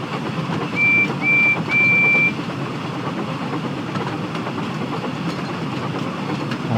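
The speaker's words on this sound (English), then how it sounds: "Percy's getting up a reasonable amount of speed, considering he's got quite a heavy train." Percy hauling a heavy train at a steady clip, a continuous rumbling rail roar with three short whistle toots early on, no talk.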